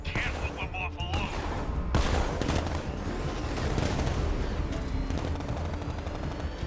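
Sustained bursts of automatic gunfire in the video game Batman: Arkham Knight, loud and continuous through a chaotic battle mix, with shouting voices mixed in.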